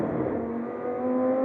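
An Audi R8 GT3 race car engine holding a loud, steady high drone with a strong tonal whine, slightly easing then swelling again, close and continuous without talk.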